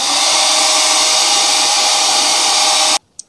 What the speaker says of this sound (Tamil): இந்த ஸ்லாட்டை வந்து இந்த மாதிரி ஹேர் ட்ரையர்லாம் ப்ளோவர் வச்சு க்ளீன் பண்ணி விட்டுருலாம்